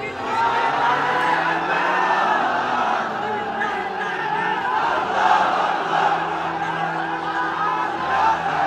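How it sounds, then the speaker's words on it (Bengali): A crowd at an Islamic religious sermon shouts the takbir together, a loud, sustained wall of massed voices that swells and holds for several seconds with no single speaker standing out. "তাকবীর দেন তো একজন আওয়াজ করে"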